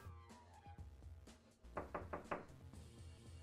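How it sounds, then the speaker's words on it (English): Knocking on a blocked door in the game Secret Files: Tunguska, a short series of hollow knocks in a quick rhythm, set under loud music from behind the door. "my knocking probably can't be heard"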